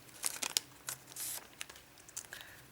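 A Japanese Pokémon card booster pack is cut open with scissors and handled, giving quiet, irregular crinkling and tearing of foil wrapper in short bursts.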